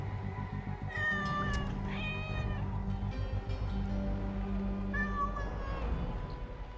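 A cat in the video game Assassin's Creed Origins gives two drawn-out meows a few seconds apart, clear and fairly close over a steady low ambient game soundscape, with no talking.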